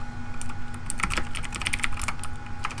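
Rapid typing on a computer keyboard during a game session, a dense stream of close clicking keystrokes over a steady background hum, with no speech.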